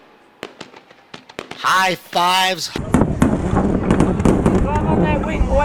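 Fireworks pop and crack in sharp, scattered bursts at a dirt-track race night, several distinct reports early on, then a steady crowd roar; a person talks over the noise.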